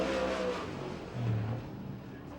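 A USAC/CRA sprint car on the dirt oval at Tulare, California, powering off turn four during qualifying, its engine a steady distant roar that swells briefly as it accelerates, with a faint commentator's voice underneath.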